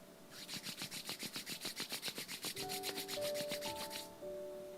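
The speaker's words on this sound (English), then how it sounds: "Gently now start rubbing your palms against each other" Palms rubbed briskly together during a home yoga session, a steady run of about twenty quick, even swishing strokes close to the mic, with a faint sustained tone rising underneath partway through.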